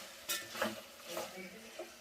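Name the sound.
stirring masala chicken biryani in a pot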